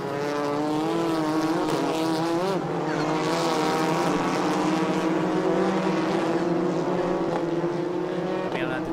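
TCR touring race cars at Inje circuit in South Korea, engines droning loudly and continuously with rising and falling harmonic whines as they run through the corners, no talk over it.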